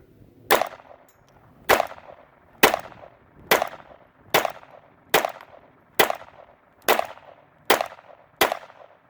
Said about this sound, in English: Well, first shot's fired